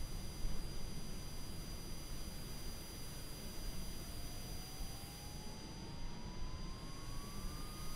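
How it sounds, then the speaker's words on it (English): Engine number 2 of a Cessna Citation Longitude spools up in a flight simulator game: a faint, steady turbine hum under a broad rumble, with a thin whine slowly rising in pitch as the start progresses. "And we will now start engine number 2."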